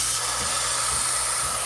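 The steam wand of a Rancilio Silvia espresso machine lets out a loud, continuous broadband hiss, steady and close, with no one talking.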